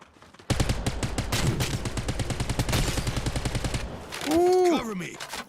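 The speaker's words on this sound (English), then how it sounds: "Incoming fire." Rapid automatic gunfire in a video game rattles loud and close for several seconds, then breaks off into a whooshing, sweeping effect, with a voice briefly heard.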